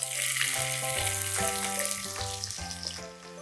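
Finely chopped onions frying in oil in a kadai, a steady soft sizzle with clinking metallic taps of a utensil against the pan at an uneven rhythm.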